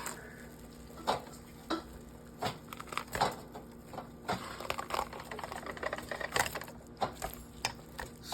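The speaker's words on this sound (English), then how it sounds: "I sear them, get them brown on both sides." Beef sears in a pan for birria tacos, a soft continuous sizzle broken by repeated sharp clinks and scrapes of a utensil against the pan, close up with no talking.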